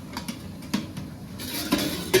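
A metal lid is lifted off a cooking pot of vegetable curry with halanchi greens, making a series of light metallic clinks and clatters, some near and sharp, with no voices.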